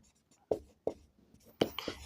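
Pen strokes writing an equation on a board during a Hindi-language class 10 maths lesson, a few short scratchy bursts at uneven intervals, close and fairly quiet with no talk.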